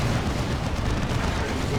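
In the Warhammer 40k game Dawn of War 2 Retribution, side cannon and plasma guns fire: a dense, unbroken roar of overlapping blasts, loud and constant, with no pause between shots.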